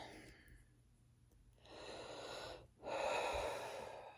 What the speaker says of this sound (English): Breathe out.